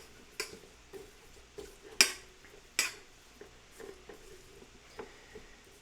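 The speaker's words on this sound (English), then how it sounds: "let's go ahead and stir this up" A spoon stirring a triple chocolate mousse mixture in a bowl, with a few sharp clinks of utensil against the bowl scattered among soft scraping sounds, close and fairly quiet.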